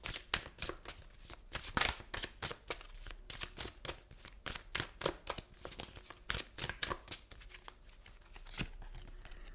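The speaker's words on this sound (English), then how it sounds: "I'm just going to pull a couple cards from this deck" Tarot cards are shuffled and drawn from a deck in a quick, irregular run of crisp riffling and slapping flicks, close and fairly loud, with no voices.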